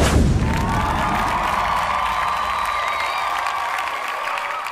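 A big crowd cheers and applauds at full volume, a steady unbroken roar of clapping and shouting that lasts throughout with no speech over it.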